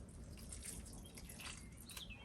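Water poured onto a golden maple root cutting in a pot, a quiet, continuous trickling and splashing wash close by, steady and unbroken.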